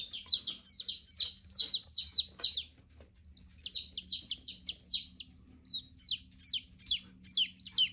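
Baby chicks chirp in rapid, high peeping bursts while being moved into a brooder, the calls coming in dense runs with a short pause, close and fairly loud over faint low background rumble.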